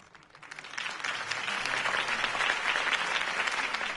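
Applause from a large crowd swells quickly and holds steady, dense clapping throughout with no one speaking over it.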